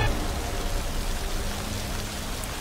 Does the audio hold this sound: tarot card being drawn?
no